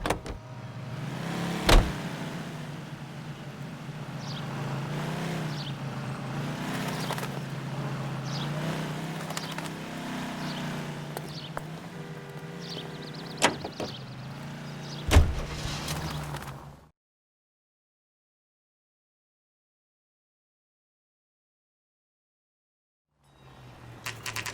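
Car driven in the video game L.A. Noire, a steady engine hum with a few bumps and clunks over about sixteen seconds, then cutting to silence before a faint return at the end.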